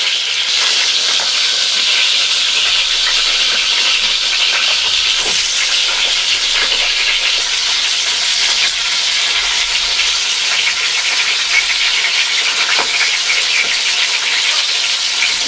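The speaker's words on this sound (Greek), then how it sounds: "Σιγαρίζουμε σε δυνατή φωτιά" Goat kid meat sautés in a pan over high heat, a loud continuous sizzle and steamy hiss with occasional crackles and stirring clatter, and no talking.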